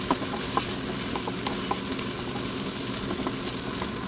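Bihon rice noodles stir-fried in olive oil in a home kitchen pan, giving a steady soft sizzle with scattered light scraping and stirring taps throughout.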